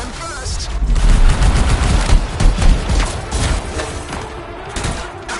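Gunfire in the Anthem video game, with rapid repeated shots and booming impacts that pile into a steady loud barrage, and speech faintly present under the combat.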